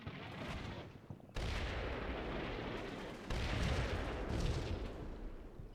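Artillery firing for effect in a military video game, a series of heavy booming blasts with sharp onsets, loud and rumbling, no voices over them.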